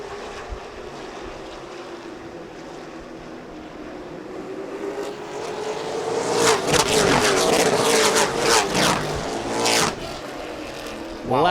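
Pro late model race cars of the CARS Tour take the start of the Throwback 276 at Hickory Motor Speedway, engines swelling from a distant drone into a loud roaring pack that rises and surges past, with wind buffeting the microphone.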